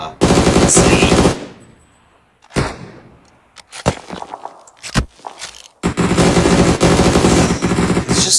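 Automatic weapon fire in the battle royale game PUBG during a tournament match, loud sustained bursts separated by a pause with scattered single shots and impacts, then another long rattling burst, no voices.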